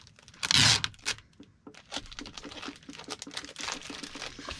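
A plastic legal envelope for priority mail is folded and taped, giving a loud crinkling burst followed by steady crackles and rustles of handling, close and alone.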